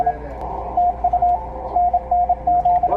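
Receiver hiss and noise from a Yaesu FTDX101D radio, with a steady tone pulsing on and off in short repeated beeps over the constant background.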